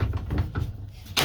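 The back door of a homemade goat trailer rattles and bumps in a few low knocks, ending in a sharper clank as it shuts or latches, close by.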